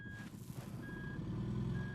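An RV backing up on a mountain trip, its reversing alarm giving slow evenly spaced beeps, moderately close, over a low rumbling idling engine; no talking.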